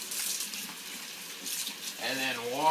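A running faucet splashes over hands being washed and rinsed, a steady close hiss of water, with a short voiced sound near the end.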